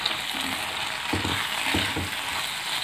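A spoon scrapes and stirs ivy gourd fry in a hot, oily pan, giving a few rhythmic scraping strokes over a continuous loud sizzle, with no talking.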